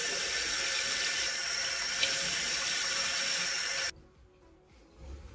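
Tap water runs steadily into a sink while a face mask is rinsed off. The hiss is loud and continuous, then stops abruptly near the end, leaving faint handling sounds.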